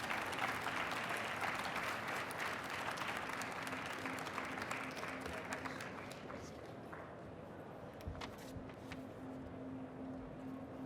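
Steady audience applause welcoming the Lieutenant Governor of Ontario, Elizabeth Dowdeswell, at a design competition event, a dense clapping crowd in a hall that gradually thins toward the end.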